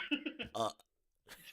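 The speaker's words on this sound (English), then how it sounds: "Give me some wild burps" A person lets out a loud, drawn-out burp, preceded by short voiced sounds and followed by a pause, then more vocal noise.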